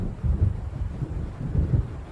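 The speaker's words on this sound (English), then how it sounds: "It seems there's a storm coming." Deep rolling thunder from an approaching storm in the video game Alan Wake, a loud, low rumble that swells and surges in waves, with no voices.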